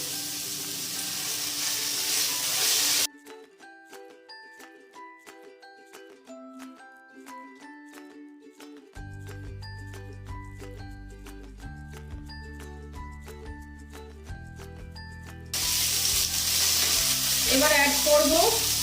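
Cabbage and egg noodles stir-fried in a pan for egg chow mein give a loud, hissing sizzle. It is heard in short bursts at the start and end, with plucked music filling the middle.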